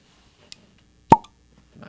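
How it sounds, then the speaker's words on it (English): A cork pops from a wine bottle up close as a single sharp, hollow plop, preceded by a faint tick and followed by quiet rustling. "Oh, cork pop?"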